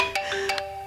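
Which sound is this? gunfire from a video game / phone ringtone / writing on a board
phone ringtone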